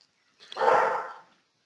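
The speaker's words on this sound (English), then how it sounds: "Man, your dog's really loving this show." A dog barks once upstairs, a single muffled woof from another room, brief and fairly distinct against silence.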